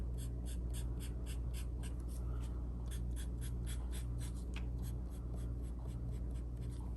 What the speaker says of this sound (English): To finish off my leaves, I'm just gonna draw some lines for the veins of the leaf.